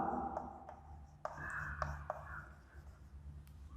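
Chalk or a marker scratches out words on a classroom board, making soft, irregular taps and strokes that come and go under a faint murmuring voice.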